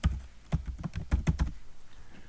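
Keystrokes on a computer keyboard typing search words into a database, a quick uneven run of about a dozen close taps, clustered in bursts then trailing off into quiet.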